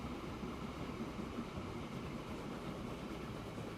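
A train locomotive running in the video game Transport Fever 2 produces a steady, low rumbling roll with a faint hiss, continuous and even throughout, fairly quiet.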